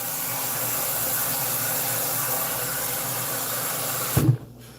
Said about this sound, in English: All I'm gonna do is add water to it.